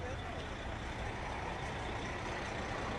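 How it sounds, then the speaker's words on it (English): Empty charter buses roll past along a street during a march in El Paso, Texas, their engines and tires making a dense, steady roar that stays close and loud throughout. "Charter buses, but they seem to be empty"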